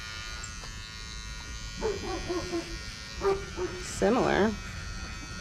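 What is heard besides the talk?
electric clippers shaving a wether before banding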